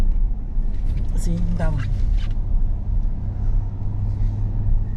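A car rolls through Oconto, Wisconsin with a steady low engine and road rumble throughout, while people inside talk briefly.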